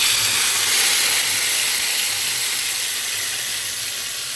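Shrimp sizzle in a hot pan, a steady close hiss that fades gently over a few seconds.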